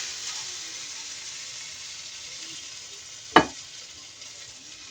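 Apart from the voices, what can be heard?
steak frying in a pan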